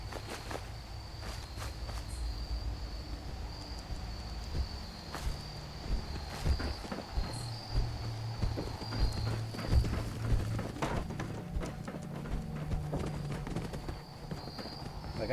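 Footsteps of Erickson, a character in Fallout 4's Far Harbor, thud steadily across the ground amid constant insect and cricket ambience, a walking rhythm running through the whole stretch.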